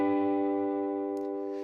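Electric guitar chord strummed high on the 12th fret, a single sustained, ringing chord decaying gradually, close and moderately quiet, with a faint click of fingers at the end.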